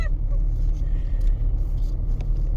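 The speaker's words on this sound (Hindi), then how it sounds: "तो ये फाइनली देख लो सिमी थार रॉक्स चलाते हुए" A Mahindra Thar Roxx MX1 SUV being driven, its engine giving a steady low rumble throughout with road noise, close and fairly loud, no talk over it.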